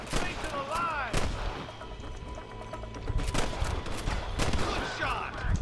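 Gunfire in the Red Dead Redemption video game near Pike Station: several sharp gunshots and booming reports are scattered through a busy mix of game sound, with voices heard along with them.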